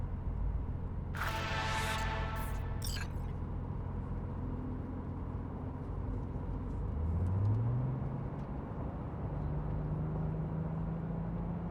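Car driving in Cyberpunk 2077: a steady engine drone with a brief burst of bright rattling noise early on, then rising engine tones as the car speeds up.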